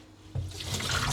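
Water pouring out of washed lentils through a small sieve, a steady close splashing drain that begins abruptly and continues without talk.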